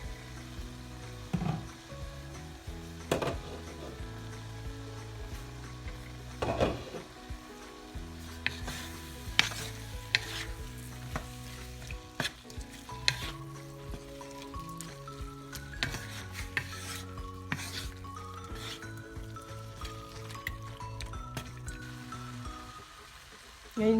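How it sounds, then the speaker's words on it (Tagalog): Pork afritada sizzles and is stirred in a cooking pot, giving a steady frying hiss with repeated scraping and clinking of the spoon against the pot, under faint background music. "Haluin ko muna guys."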